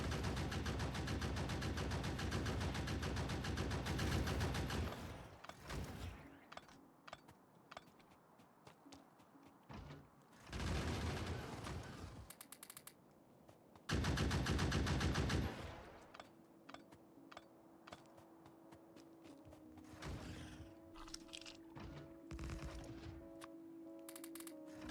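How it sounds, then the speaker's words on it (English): Gunfire cuts down small worms in Factorio with the Krastorio 2 mod, in loud rapid machine-gun bursts separated by quieter stretches of mechanical clatter and hum, with no speech. "I'm now killing the small worms in 2 shots."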